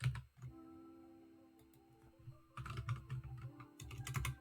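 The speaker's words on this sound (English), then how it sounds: "So what I'm doing is typing random words here" Fingers type on a computer keyboard in quick clustered bursts of soft clicks, with a pause after an opening tap and denser typing later, near and fairly quiet over a low steady hum.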